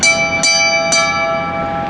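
A brass boat bell with a long handle and a loosely mounted bracket is struck twice, each bright ring sustaining and overlapping as the tone slowly decays.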